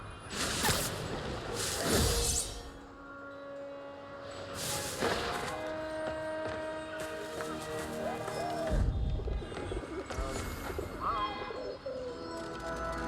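Pigeons in the Marvel's Spider-Man Remastered video game give soft, repeated coos, alongside light whooshes and other game ambience at moderate volume.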